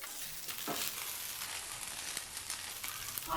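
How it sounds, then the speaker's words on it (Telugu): Cut okra (bhindi) pieces fry in a pan with a continuous hiss and crackle, close and steady, broken by a few stirring scrapes. "ఇలా మరలా ఫ్రై చేసుకోవాలి"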